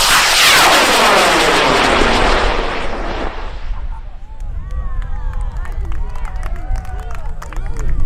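A high-power Wildman kit rocket on a K535 DMS motor roars off the pad, a loud broad blast for about three seconds that fades with distance, followed by crowd cheering, clapping and chatter.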